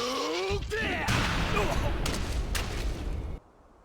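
Rage Art attack in Tekken: a dense burst of explosive impacts, booming hits and shouted game voices, loud and chaotic for about three seconds before cutting off sharply.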